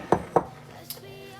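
Bowls and dishes handled in a home kitchen while a simple budget meal is made: two sharp ceramic clunks close together, then a lighter clink, each ringing briefly over quiet room tone.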